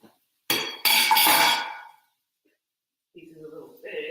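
Cauliflower goes into a pot of coconut curry vegetables. A short clattering of pieces against the metal pot lasts about a second and a half, then silence, and then a voice begins speaking.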